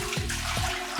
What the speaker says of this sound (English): we are going to pour the water into the canner.